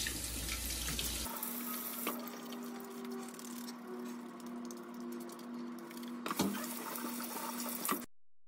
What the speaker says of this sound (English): we're gonna do a proper hand washing technique